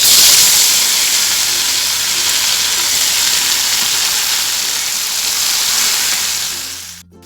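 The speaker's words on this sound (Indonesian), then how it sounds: "Oke, minyaknya sudah panas, kita masukkan cabai yang udah matang ini." Cooked chillies dropped into hot oil sizzle in a loud, steady, broad hiss that holds throughout and fades slightly before cutting off at the end, with no talking.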